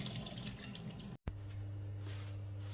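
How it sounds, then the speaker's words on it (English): Liquid from a can of chickpeas pours and trickles into a sink, a soft steady splash broken by a brief cut, then continuing quietly. "And drain a can of chickpeas."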